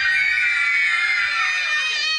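A hall full of children at a literature festival screams together in one loud, sustained, high-pitched burst that lasts for a couple of seconds and tapers slightly toward the end.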